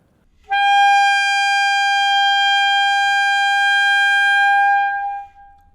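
A saxophone holds one strong high E note, loud and steady for about five seconds with a clean attack and a brief tail, played alone with no talk.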